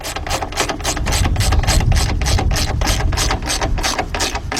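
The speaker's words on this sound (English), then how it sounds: "Now to tighten these up with the ratchet, that's all you want to do is go till it stops." A hand ratchet tightens a 15mm bolt on the front strut assembly of a 2010 Honda Accord 2.4, giving a close, loud run of rapid, evenly spaced pawl clicks that continues steadily with no voices.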